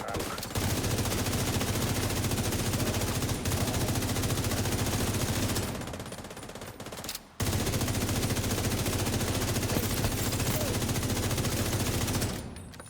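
Gunfire in a video game: dense, continuous bursts of rapid shots crackle loudly, break off briefly, then resume just as heavily.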